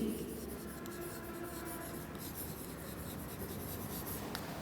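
Steady scratchy marker or chalk strokes on a classroom board run continuously through the span, with a faint murmur of room noise underneath and no clear voice on top.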